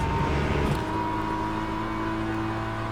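A GT3 race car engine in the Le Mans Ultimate racing game drones and revs steadily at moderate level, a continuous tonal motor hum with slight pitch shifts and no talk over it.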